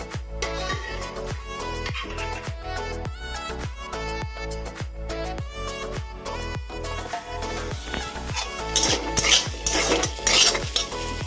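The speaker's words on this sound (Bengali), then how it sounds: "ভাজা হয়ে গেছে, কাঁঠাল কুচি আর আলু ভাজা" Chopped jackfruit and potato frying in a pan, with a steady run of rhythmic metal spatula scrapes and taps against the pan over a low hum, and the sizzle growing louder and busier toward the end.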